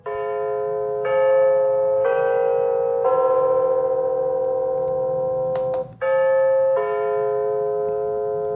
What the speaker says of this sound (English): if I press and hold the alarm set button, then it has a chime feature